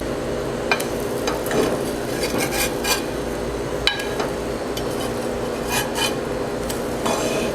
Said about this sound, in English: so I'm going to flip over my pancakes